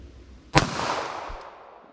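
A single sharp gunshot from a .38 Special +P revolver loaded with Winchester Silvertip ammunition, fired outdoors at a silhouette target 75 yards away, cracks loudly and then decays into a long rolling echo, with no talking.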